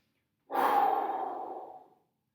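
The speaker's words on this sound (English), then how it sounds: "Breathe in." A single long, close breath drawn in during a guided somatics exercise session. It is an airy, even inhalation lasting about a second and a half, heard alone in silence.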